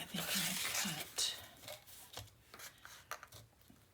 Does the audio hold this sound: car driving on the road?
no